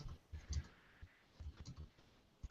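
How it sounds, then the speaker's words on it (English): Someone types an email on a computer keyboard: faint, irregular key clicks come in small clusters with brief gaps, soft and close in a quiet room. "I'm typing an email"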